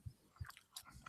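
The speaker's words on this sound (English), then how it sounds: "And stop chewing gum." Someone chews gum close to the mic, with a few quiet, irregular wet smacks and clicks in a short burst.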